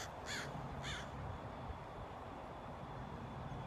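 Two harsh crow caws in quick succession near the start, followed by a steady low outdoor rumble, with no one speaking.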